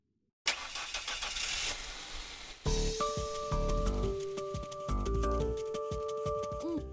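A car engine cranks over with a loud rising whine, then catches and runs steadily with a tonal hum and rhythmic rumble, close and alone.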